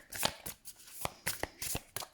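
Tarot cards are shuffled by hand in quick, crisp riffling bursts, several in a row, close and clear with no voices.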